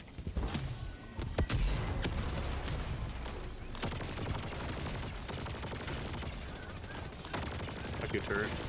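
An automated sentry turret in Helldivers 2 fires continuous rapid bursts, a dense loud stream of gunfire with heavy thuds early on, running throughout with no clear talk.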